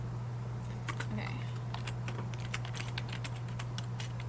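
Someone types on a computer keyboard in quick irregular bursts of clicking keys, with a steady electrical hum running underneath.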